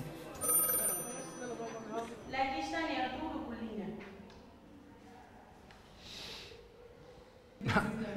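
A telephone rings briefly with a thin electronic trill near the start, soon buried under ongoing talk and breathing in a quiet room.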